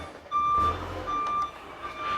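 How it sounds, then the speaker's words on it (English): Repeated high electronic reversing beeps from a forklift sound in a steady rhythm behind a workshop where a Ducati ST3 motorcycle is being fitted with new fairings, with a low vehicle rumble underneath and no talking. "Piss off, Pat, with your noisy forklift."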